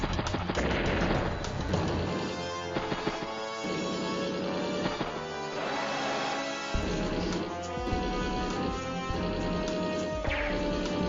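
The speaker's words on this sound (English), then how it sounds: "decides to take a shot with that missile. Medium tank getting hit." A missile strike on a medium tank in the turn-based strategy game Advance Wars: Days of Ruin, with repeated crunching impacts and explosion hits layered over loud, continuous game music.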